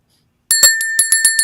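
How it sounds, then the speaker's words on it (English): A small mindfulness bell is struck in a rapid series of bright, ringing metallic strikes whose high tones linger and overlap, loud and close, following a moment of silence. "here's the bell"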